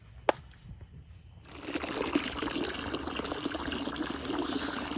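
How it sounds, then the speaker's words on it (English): Water pours from a tap into a bowl for a dog named Sadie, starting after a quiet moment with a click and running as a steady close splashing fill to the end. "I'm sitting here filling up a bowl of water for Sadie"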